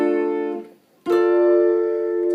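An acoustic guitar chord barred with one finger at the tenth fret with a capo rings out, fades, then a second strum sustains bright and clear, close and alone.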